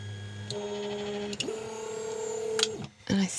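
A DAJA DJ6 laser engraver powers on with a steady electronic hum and whine, rising and shifting tones, a brief click and a short beep near the end, close and moderately quiet.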